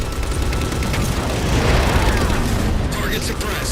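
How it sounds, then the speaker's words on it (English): Heavy weapon fire and explosions in the Halo video game as a railgun shoots down Phantom dropships, a dense continuous barrage of booms and blasts with battle noise throughout. "Target those phantoms for the railgun to shoot down."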